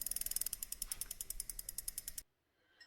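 A plastic game spinner whirs, its rapid ratcheting clicks slowing steadily over about two seconds before it stops and falls silent.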